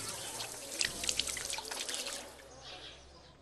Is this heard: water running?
yes